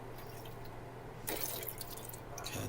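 Water dripping into a container, with faint steady drips at first, then a louder rush of splashing and trickling water that carries on to the end; nobody speaks.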